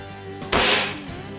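An Evanix Rainstorm PCP air rifle fires a pellet with one sharp, loud crack that decays over a few tenths of a second. Quiet handling noise comes before and after.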